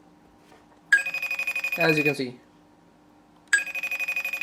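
A phone rings after being triggered by the find-my-phone feature of an Emporio Armani Connected smartwatch, giving a bright pulsing electronic ring in two bursts with a gap between them. Someone talks briefly over the end of the first burst.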